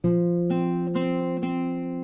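Four plucked acoustic guitar notes on the open D string ring out at an even pace, each one sustaining into the next, close and clear with no talking.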